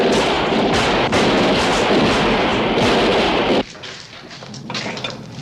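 Heavy artillery fire thunders continuously in a World War II battle scene at Potsdamer Platz, Berlin, a dense roar of booms for over three seconds that cuts off abruptly to quieter distant rumble and scattered crackle.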